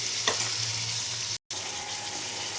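Chopped onions sizzle with salt in a hot pan, a steady close frying hiss with faint stirring scrapes and a brief dropout partway through.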